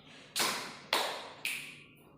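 Three sharp, evenly spaced taps sound in a slow rhythm during a classroom introduction game, each striking crisply and fading with a short ring, with no talking over them.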